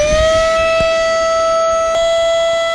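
A Flextail Evo electric air pump inflating a kayak whines loudly at a steady, high, siren-like pitch that holds throughout, with faint bumps underneath.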